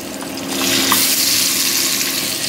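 Pabda fish fry in hot oil for a Bengali curry, giving a loud, steady crackling sizzle that swells slightly and holds throughout, close up with no voices.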